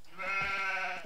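A sheep in a strategy video game gives one short, nasal bleat, clear and close, lasting about a second on its own.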